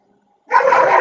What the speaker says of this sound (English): That's the farm dog, Stella.